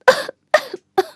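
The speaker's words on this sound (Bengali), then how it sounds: "স্নো হোয়াইট হঠাৎ জেগে উঠল আর জোরে জোরে কাশতে লাগলো" Snow White in an animated fairy tale gives three sharp, voiced coughs in quick succession, each a short burst followed by a brief throaty tail.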